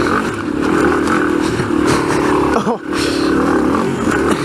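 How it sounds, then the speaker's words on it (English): A motorcycle engine revving loudly and steadily as the bike climbs a hill, close and continuous with a brief dip, while a person briefly exclaims. "The bike started to go up the hill and I wasn't ready for it."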